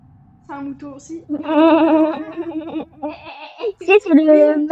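A video game sheep bleats repeatedly at close range, its wavering calls interleaved with a person's giggling and talk.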